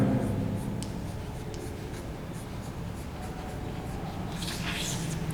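A marker or chalk writes steadily on a board in a classroom lesson, giving a continuous close scratching with short strokes and a brighter squeak near the end.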